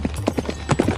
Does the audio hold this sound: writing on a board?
no